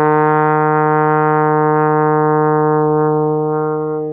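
A trombone holds a steady E flat as a single sustained note, loud and even for about four seconds, fading slightly at the end with no talk.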